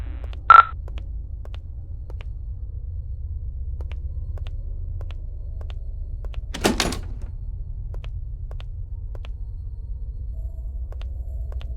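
The front door of St. Augustine's Asylum swings open in the Paranormal Entities horror game: a single brief thunk and scrape midway through, over a steady low ambient drone with a short tone near the start and faint scattered clicks.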